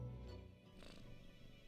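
A sleeping cat's soft, snore-like purr in the game Death and Taxes, a low rumbling hum that is faint and close, with a slight breathy swell near the middle and no talking.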